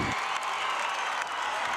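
A crowd at a boys' high school basketball state championship game applauds and cheers steadily, a dense wash of clapping heard from within the gym.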